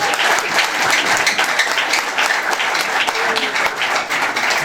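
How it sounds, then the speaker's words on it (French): A crowd at a political event applauds and cheers, with dense, steady clapping that stays loud and continuous throughout. "Est-ce qu'on peut acclamer?"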